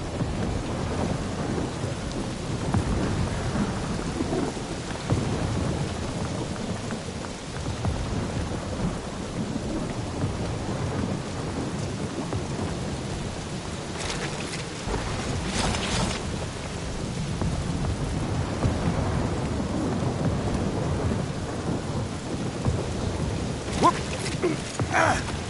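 Steady heavy rain pours throughout a storm, with rumbles of thunder rolling underneath and a few sharper cracks partway through, continuous and fairly close.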